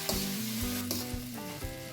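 Scrambled eggs and vegetables stir-fry in a hot pan with sauce for egg hakka noodles, a steady close sizzle broken by scraping stirs, no voices.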